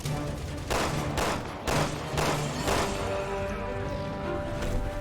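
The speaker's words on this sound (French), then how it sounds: "Encore un sniper qui nous embête là." Repeated sniper gunfire from the video game Resident Evil 6, heavy reports landing roughly every half second to second in a loud continuous volley, fading into a sustained rumble over the last seconds.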